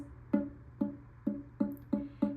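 Ukulele C string plucked while the middle finger only rests on it instead of pressing it down, six short dull muted plucks in steady rhythm, each dying away quickly, quiet and alone.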